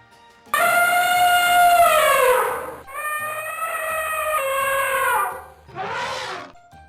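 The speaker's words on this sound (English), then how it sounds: "Elephant." An elephant trumpets in three loud, brassy blasts, two long sweeping ones followed by a shorter, rougher call, each carrying high shrill overtones, close and with no other sounds.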